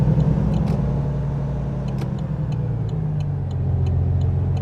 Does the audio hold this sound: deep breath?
no